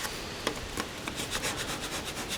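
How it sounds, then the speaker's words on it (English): A squeegee or card scrapes firmly over a vinyl die cut decal on a car window, a steady rasping rub with quick repeated strokes, close and continuous, with no talking. "keep scraping"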